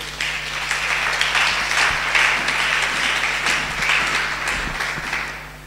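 A church congregation breaks into sustained, loud applause in a hall, dense clapping holding steady for several seconds before easing off slightly.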